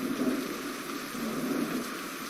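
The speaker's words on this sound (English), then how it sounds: "now I can hear a little bit of a storm" Storm weather in a WW2 hex-board digital wargame: a steady, even hiss of rain over a low rumble, holding at the same level throughout with no voices.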